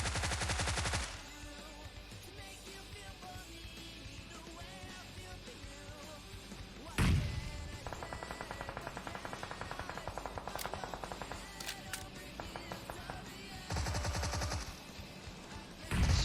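Loud automatic gunfire in a competitive video game scrim: an opening burst, a single sharp shot, then a sustained rattling stretch of rapid fire and another short burst near the end. No talking is heard.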